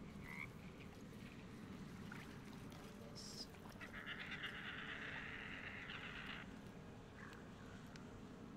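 A frog croaks in a video game, in short calls over a steady bed of ambient noise and a few higher chirps, fairly faint.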